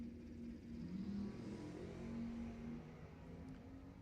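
A Chevelle and a BMW drag racing at Lebanon Valley Dragway: a distant, faint engine drone with a rising whine, steady and continuous under a hazy background.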